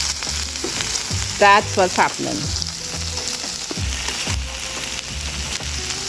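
Goat meat fried rice sizzles and chars loudly in a hot pan, with a steady frying crackle and bursts of stirring and scraping throughout, while a voice speaks briefly over it.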